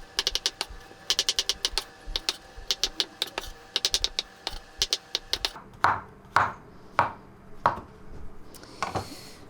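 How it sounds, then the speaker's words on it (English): Mushrooms being chopped with a knife on a board, a fast run of close, crisp taps in quick bursts that give way to a few heavier, slower chops near the end. "And then we're just gonna chop up all these mushrooms."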